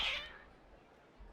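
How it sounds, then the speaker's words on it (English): A single brief, faint cat meow at the start of a short moment in the Genshin Impact video game, the cats sounding unhappy, followed by near silence. "Cats don't seem happy."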